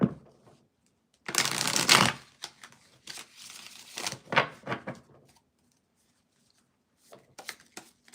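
Tarot cards are shuffled nearby in several quick riffling bursts with short pauses, crisp papery flutters and taps, with no talk over them.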